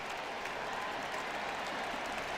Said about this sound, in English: Gets a nice hand from the sellout crowd